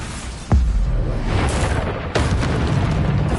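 A Bombarda blasting spell from Hogwarts Legacy, a video game, goes off as a sudden deep boom about half a second in. A second, sharper burst follows near the two-second mark over a steady low rumble.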